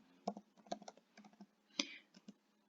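Keys are pressed on a computer keyboard while values are entered into an Excel spreadsheet: a quiet, close run of irregular clicks with brief pauses and one louder keystroke near the end.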